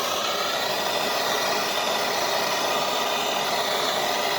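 A heat gun blows steadily on a hard hose line beside the fuel injector connectors of a 2008 Nissan Armada, giving a constant broadband whooshing roar at close range with no breaks.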